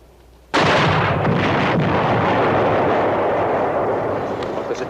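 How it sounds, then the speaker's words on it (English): A German 88 gun fires in a 1962 World War II combat drama: a sudden loud blast hits after a half-second of quiet, then a dense, sustained roar of rumbling battle noise continues without a break. "I'm not sitting here waiting for a blast from that 88"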